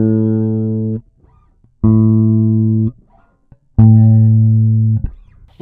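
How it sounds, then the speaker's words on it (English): A single bass note, an A, played three times in turn on different strings up the neck of a 5-string bass, each sustained about a second and cut off, with short quiet gaps between. "if we take this A on the 2nd fret of the G string and we play it up the neck on the different strings"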